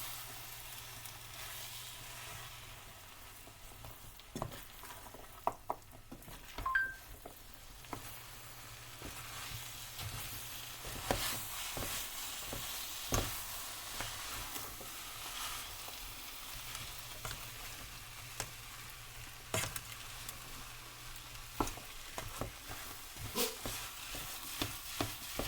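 Hamburger Helper ground meat frying and being stirred in a pan, a steady close sizzle with scraping spoon strokes and occasional louder knocks, no talking.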